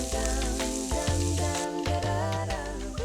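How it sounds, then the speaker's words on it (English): Finely chopped green pepper and garlic fry gently in oil in a pan, a soft steady sizzle with a few light stirring clinks over a background of tonal music. "heat a lug of oil in a pan and gently fry the finely chopped green pepper"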